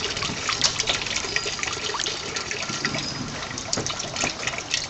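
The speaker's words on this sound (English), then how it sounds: "So we've turned it off now, and the pump and the water's flowing quite fast." Water drains quickly from a flood and drain (ebb and flow) table through a pump, a steady, close rushing and gurgling flow with bright splashy hiss that never lets up.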